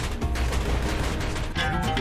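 Dense, continuous enemy gunfire in the video game Bastion, a rapid clatter of overlapping shots filling the whole short stretch at steady loudness.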